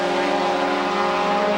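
A Ford Mustang race car roars down the straightaway of the Trois-Rivières street circuit during a 1999 Motorola Cup race, one loud, steady, high engine note held throughout with no talk.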